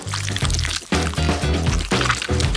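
Milk being poured while cooking, after strawberry jam goes into a pan, a close gurgling liquid pour in repeated bursts with brief pauses between them.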